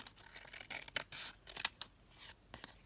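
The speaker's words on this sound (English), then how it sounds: "So I'm just going to cut this down again" Scissors snip paper into a tag shape for a craft project, with several quiet, close cuts in an irregular rhythm and no talking.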